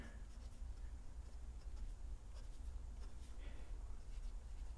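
Faint, continuous scratching of equations being written out during a lesson on Gauss' divergence theorem, a soft, steady rubbing with no speech.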